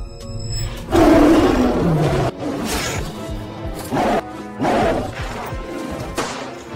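Tiger roaring and attacking a horse, a loud rough roar and growl in heavy bursts mixed with crashing, thrashing impacts, close and forceful with short gaps between outbursts.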